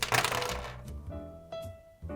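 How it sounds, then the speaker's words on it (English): A GAN356M speed cube being turned in a corner-cutting test, a few quick plastic clacks and rattling twists in short bursts with brief pauses between them. "let's quickly do a corner cutting test"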